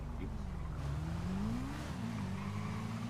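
Motorbike in a GTA game accelerating, engine drone rising in pitch then settling into a steady high hum with some road noise, loud and continuous.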